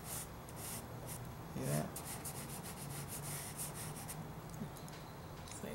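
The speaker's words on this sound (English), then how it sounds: "I'm just going to lightly take the side and rub this in there." Charcoal stick rubbed sideways across drawing paper gives a soft, continuous dry scraping that holds steady for several seconds at close range, broken by one brief low bump and a few quiet spoken words.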